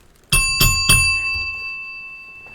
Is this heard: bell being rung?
yes